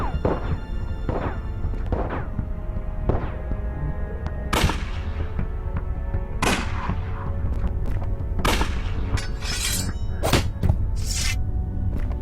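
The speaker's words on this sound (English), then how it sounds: "You can stop shooting, Detective Santina" Gunfire in the video game Unavowed, a series of loud, sharp shots spaced roughly a second or two apart over steady low background noise, getting denser and more clustered toward the end.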